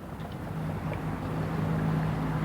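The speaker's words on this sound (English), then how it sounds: "you'll see the exhaust fan, which is now operating" A roof-mounted attic exhaust fan on a wagon and blacksmith shop runs with a steady low drone and faint hum, constant and unbroken, heard alone without voices.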